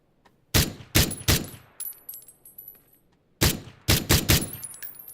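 Gunfire in the battle royale game PUBG: two sharp bursts of three and four loud, close shots separated by a pause, each crack trailing off with metallic ringing and clinking.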